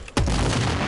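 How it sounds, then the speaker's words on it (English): A single loud, booming explosion in the sniper video game Sniper Ghost Warrior 3, hitting sharply and then rumbling on through the rest of the moment. "Wow, that explosion."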